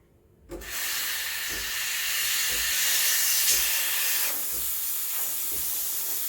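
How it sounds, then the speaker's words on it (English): A Sunbeam Barista Max steam wand steams milk in a stainless jug, bursting on with a loud, steady hiss that holds for several seconds with faint gurgling underneath, then eases slightly in level. "you need to feel the temperature when steaming the milk"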